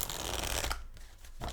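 Tarot cards shuffle close by in a brief, soft riffling burst that fades, then picks up again at the end.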